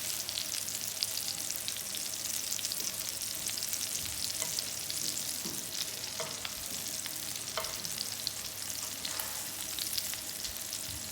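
Liège meatballs fry in a pan with a steady, close, dense sizzle, punctuated by a few soft pops and stirring clicks throughout, with no voices.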